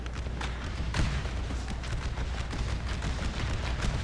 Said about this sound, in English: all of my men are actually firing